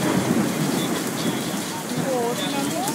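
Hail clattering down steadily in a storm in the Philippines, a dense, close patter of falling ice that runs throughout, with people talking softly underneath.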